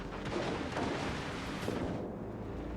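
Battleship secondary guns firing in World of Warships Legends, a dense continuous barrage of booming naval gunfire and impacts, loud and close, with no voices.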